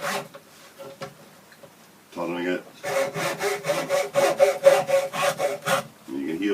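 A hand saw cutting wood for a walking stick: a few tentative strokes, then a quick run of rhythmic back-and-forth rasping strokes, close and fairly loud.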